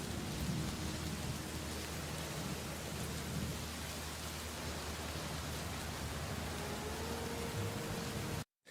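Steady, dense rain pours throughout a dramatic TV episode scene, a broad continuous hiss with faint low rumble beneath, loud and unbroken for about eight seconds before cutting off abruptly.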